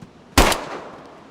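One sharp, close gunshot in the survival game DayZ cracks out after near silence, followed by a short fading echo.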